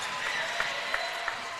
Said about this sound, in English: The crowd likes that one.